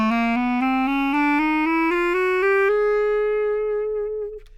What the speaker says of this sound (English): The lowest register on the clarinet is called the tremolo register, and it goes from low E up to B-flat.